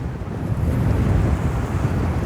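Wind roars across the open sea of the Kilali lagoon, with waves washing in a steady broadband rush; the buffeting is loud and close, and no one speaks.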